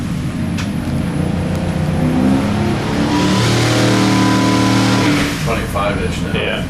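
A car engine revs hard through a first pull on E85 flex fuel, rising and holding a loud, steady, close drone for several seconds before easing off, with voices talking over it.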